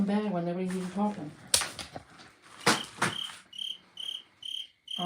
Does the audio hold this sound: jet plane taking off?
no